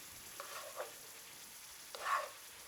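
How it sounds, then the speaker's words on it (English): Food fries in a pan on full heat, giving a faint, steady sizzle with a few louder bursts and a clatter as it is stirred and tossed with tongs. "Love that sizzle."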